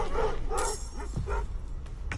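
An angry ghost dog in the video game Baldur's Gate 3 lets out a few growling barks and yips in quick succession over a low rumbling game ambience.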